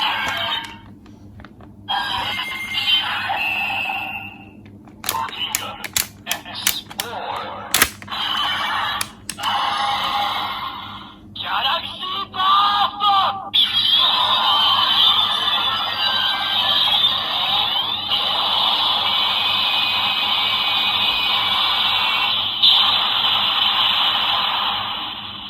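Ultraman Z toy in Galaxy Rising form playing its finisher sequence: bright electronic chimes, rapid clicking stabs and a long sustained synthesized roar, loud and unbroken, with no voices.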